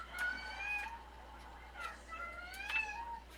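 A cat meows several times at close range in a quiet room, with short drawn-out calls coming in uneven bursts.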